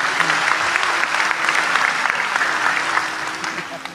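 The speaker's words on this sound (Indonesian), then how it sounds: "Tepuk tangan untuk beliau." Audience applause at an Indonesian religious lecture, a dense, steady crowd clapping that fills the room and slowly fades toward the end.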